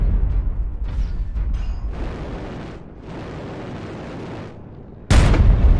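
Rocket explosions in a video game erupt as loud, rumbling booms layered over one another, and a sharper, louder blast hits near the end.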